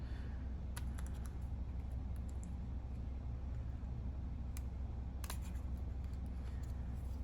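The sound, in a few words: scissors cutting card stock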